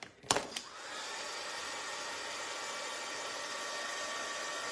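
A hair dryer blows steadily on a painted Uncle Sam Americana craft to dry it, starting with a couple of clicks and then holding an even, close whooshing hum through the clip.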